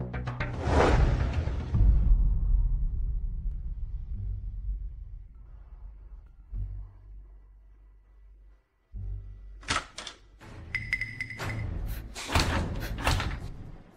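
A locked door is pushed and slammed: a heavy bang and rattle at the start, a low rumbling strain, a short silence, then several sharp banging impacts and clatters, loud and close.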